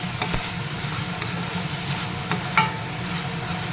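Tomato and onions with red chillies frying in a pan for dal khichdi, a steady close sizzle with a few spoon scrapes and taps, no talking.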